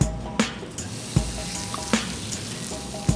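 An omelette sizzles steadily in a buttered frying pan, a constant crackling hiss broken by a few sharp clinks of a utensil against the pan every second or so.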